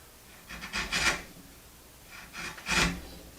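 A sharp chisel pares end grain oak in two short rasping strokes, each a dry scraping cut separated by a pause, close and fairly quiet.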